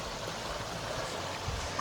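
Small stream water at a hiking trail crossing, a steady broadband rush and trickle that stays close and even throughout with no talk.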